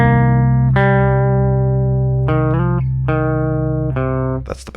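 Bass guitar playing a part from a song: sustained, droning low notes with a few plucked note changes, loud and clean with no talking, fading at the end.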